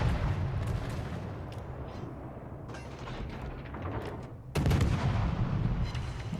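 Destroyer guns firing in a World of Warships naval battle, a dense ongoing barrage of booming shots with a sharp louder burst near the end, no talking.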